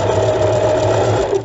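A sewing machine runs steadily as it stitches a rope basket, a close, continuous mechanical whir with no voices over it.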